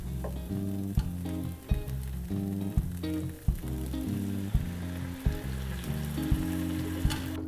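Rice sizzles steadily in a pan as warm stock is added and stirred, with a continuous frying hiss and stirring clatter under loud rhythmic background music.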